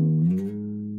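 A single guitar note rings on the first string with the third fret added, clear and sustained, alone and close.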